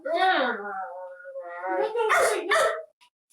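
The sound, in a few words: person imitating a growling, barking dog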